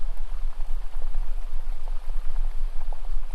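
A river laps and flows gently against its bank in a steady, even wash of small bubbling splashes, close by and continuous throughout, with no talking.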